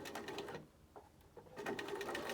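A sewing machine stitches a straight seam across a knitted beanie in quick whirring bursts, pausing briefly in the middle before running again at a steady, close-up clip.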